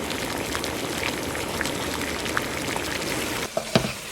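Vegan curry frying hard on high heat, a dense, steady sizzle and bubbling that fills the whole stretch. Toward the end a few clinks and scrapes, like a spoon stirring the pan, break through.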